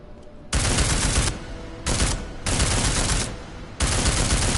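Silenced gunfire from a suppressed weapon in the video game Deus Ex: Mankind Divided, heard as four loud, dense bursts of rapid shots separated by short gaps, with no talking.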